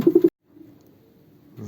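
Racing pigeon cooing in a loft, a short run of three soft, close coos at the start, then quiet low rumbling before another faint coo begins at the end.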